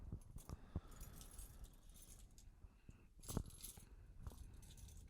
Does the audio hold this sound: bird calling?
no